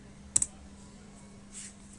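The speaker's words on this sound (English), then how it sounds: "can type localhost" Two quick keystrokes click on a computer keyboard, faint and close, followed by near silence.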